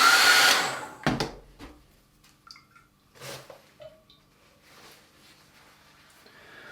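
A hair dryer blows loudly for about a second over a wet-in-wet watercolor sky painting, then cuts off, leaving soft brush dabs, taps and faint handling noises in a quiet room.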